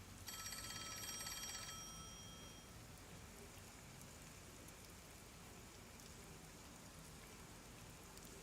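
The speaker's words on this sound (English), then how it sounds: "Oh, the phone. It's a call from the WDO." A phone rings in the Master Detective Archives: Rain Code video game, an electronic trill starting brightly then cut short, laid over a steady hiss of falling rain that carries on alone afterward.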